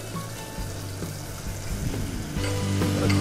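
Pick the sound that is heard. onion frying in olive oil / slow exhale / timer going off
onion frying in olive oil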